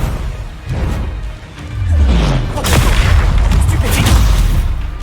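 Magical spell blasts from Hogwarts Legacy boom loudly in a rapid series, deep thumping impacts with whooshing bursts layered over a rumbling fight mix.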